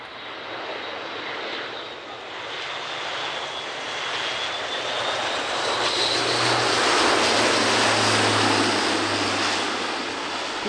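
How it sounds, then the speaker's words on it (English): An RAF Airbus A400M Atlas turboprop transport flies past at the Cosford air show, its propeller engines making a loud, sustained drone and roar that swells slightly as it passes, with no voices. "Great to see the Atlas fleet getting a bit of airtime, because it's an aircraft we see so rarely at air shows"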